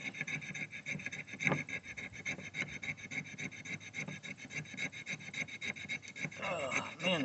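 A knife blade scrapes along a hard fatwood stick in quick repeated rasping strokes, a steady close-up scratching rhythm that runs without pause and grows slightly rougher near the end, no talking.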